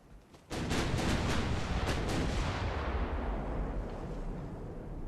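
A heavy cruiser's 10-inch naval guns fire in Ultimate Admiral, a sudden loud booming salvo with several overlapping blasts that roll on into a long, fading rumble.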